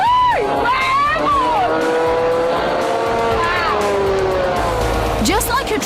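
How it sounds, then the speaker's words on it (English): A supercharged 250 horsepower Chevrolet V8 drives a military HoverWing hovercraft, its loud engine roar rising and falling in pitch with revving swoops while voices call out over it. "as the 250 horsepower Chevrolet V8 engine powered up"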